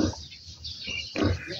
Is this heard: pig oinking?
yes